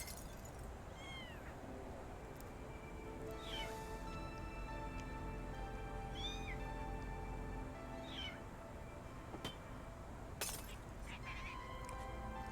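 Cats meow in the cyberpunk video game Anno Mutationem, several short mews spread out over a quiet, low hum of game ambience.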